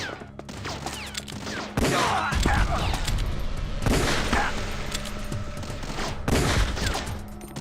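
Loud bursts of automatic gunfire from Metal Gear Solid: The Twin Snakes on GameCube, dense rapid volleys that start abruptly and keep hammering, with a few heavier thumps.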